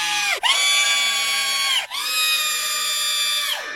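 A voice imitates another woman screaming angrily: two long, piercing, high-pitched shrieks, each ending in a falling, wavering tail, loud and close with a brief gasp between them.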